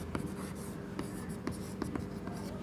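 Chalk or marker strokes on a classroom board during a physics lesson on momentum, a steady scratching with sharp taps between strokes, close and fairly faint, with no talking.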